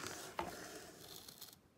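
Wire is snipped into 5-foot pieces, a single crisp cutting snap followed by faint rustling and handling noise, quiet and close.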